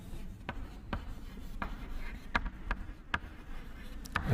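Chalk or marker writing on a classroom board gives a run of faint, sharp taps and scratchy strokes at an uneven pace, near and quiet, with no talk over them.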